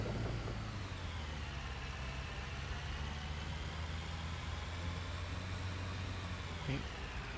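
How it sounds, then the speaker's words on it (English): A tractor engine in the construction game Construction Simulator drones at a steady, even idle, loud and close and without a pause, with no voices over it. "Now let's just get ourselves turned with the tractor."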